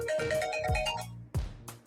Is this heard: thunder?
no